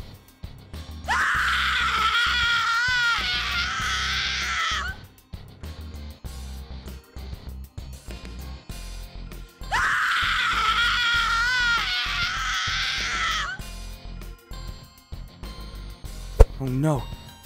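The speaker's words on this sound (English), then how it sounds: "What are those screams? I can hear screaming." Screaming in the Minecraft video game, heard as two long, high, wailing cries several seconds apart, with background game sounds continuing between them.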